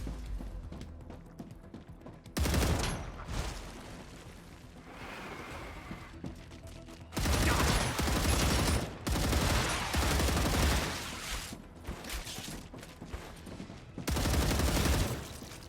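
Bursts of gunfire from shooting in the sci-fi video game StarRupture, long loud volleys of rapid shots broken by shorter quieter gaps, with no talking over them.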